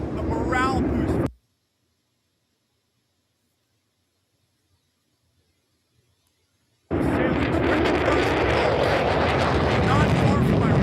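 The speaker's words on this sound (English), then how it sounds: "Now we have this stealth bomber flying over us" A stealth bomber flies over an aircraft carrier with a loud, dense, continuous roar. The roar drops out completely for several seconds in the middle, then returns just as strong.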